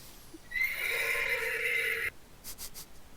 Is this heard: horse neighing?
yes